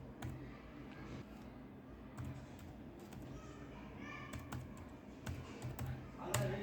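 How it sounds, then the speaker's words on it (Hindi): A serial number being typed on a computer keyboard, a steady stream of close, faint key clicks over a low background hum, growing denser near the end, with no clear talking. "आपको यहाँ पर सीरियल नंबर टाइप करना है"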